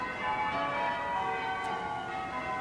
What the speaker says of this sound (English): Bells at St Margaret's that have rung on so many historic occasions, now telling the people of central London that it is past noon